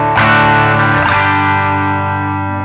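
An electric guitar chord is struck once through an amp emulation with an overdrive pedal, extra gain and reverb, ringing loud and heavily distorted with a long fuzzy sustain.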